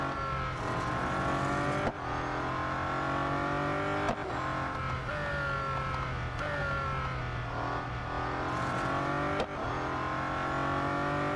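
Bugatti Centodieci race car engine in the Real Racing 3 mobile game, a loud continuous high-revving roar with rising and falling pitch through repeated gear shifts, sustained throughout with no talk.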